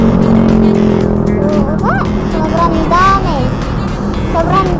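A car drives past outdoors amid steady road noise, with several people chattering and calling out excitedly over it.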